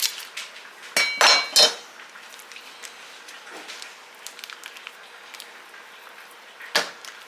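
A stained mixing bowl is scrubbed clean, with sharp clinks and knocks of utensils against the bowl coming in a quick cluster early, then light scattered taps and scraping, one more clink near the end.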